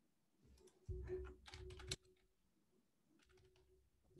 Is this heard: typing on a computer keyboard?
yes